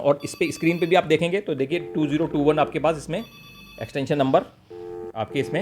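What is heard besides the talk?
Matrix EON510 keyphone ringing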